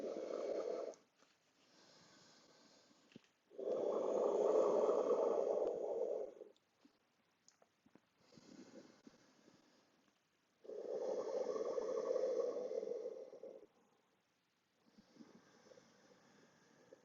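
Deep yoga breathing sounds close and strong: loud, airy exhales a few seconds long alternate with softer inhales, separated by brief silences, in a slow, even rhythm with no talking.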